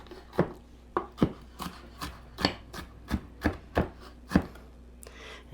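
A knife fine-chops small vegetables for a pasta salad, giving about a dozen crisp, close taps on a board at a steady, slightly uneven rhythm, with no talk.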